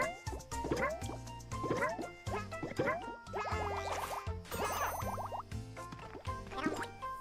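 Water filling at a refill spot in a Yoshi video game, with bubbly gurgles, drips and quick plopping sweeps over a game music bed, repeating in busy bursts.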